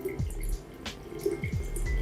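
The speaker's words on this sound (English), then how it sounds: "now we are pouring this water in this bottle that you can see" Water is poured into a bottle from an ionizer machine, giving a steady trickling, splashing stream with scattered drips and small knocks, close by and without talk.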